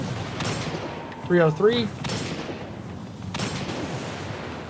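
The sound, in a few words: hand cannon gunfire in the video game Destiny 2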